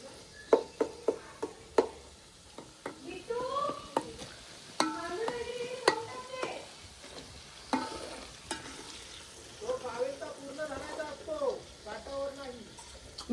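Garlic frying in hot oil for a home-cooked mutton curry, with a steady sizzle and stirring clatter running throughout, sharp utensil knocks near the start, and people talking over the cooking.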